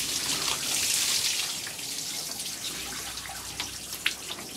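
Water sprays hard from a watering hose, a loud hissing rush at first that eases into a steadier patter with a few sharp drips and splashes near the end, no voices.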